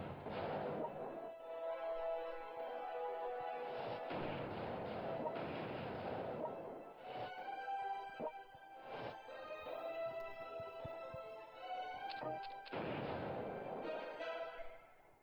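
Bombing strikes in the strategy war game World Conqueror 3 set in a 1939 campaign, a series of booming, crackling blasts and rumbling explosions in quick succession with short gaps, fairly loud and filling the whole stretch.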